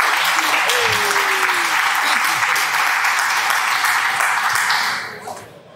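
Steady crowd applause fills a convention hall during a Marvel Crisis Protocol tabletop team-up event game, loud and continuous for about five seconds before tapering off.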